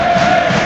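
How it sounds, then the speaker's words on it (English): Bournemouth home supporters at a football match against Tottenham roar and cheer together, a dense, continuous crowd wash heard briefly at close-up volume. "the Bournemouth crowd getting behind their side"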